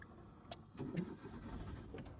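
A car engine cranks and catches after a sharp click, settling into a low, close running rumble.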